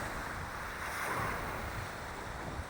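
Steady wash of sea waves on the shore, a soft continuous surf roar with a gentle swell in the middle, heard alone with some wind.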